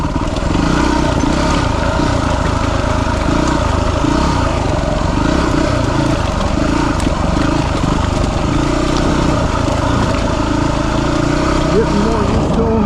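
A dirt bike climbs a rocky hill, its engine droning loud and steady throughout with rough, rattling texture from the rocky ground, close to the rider.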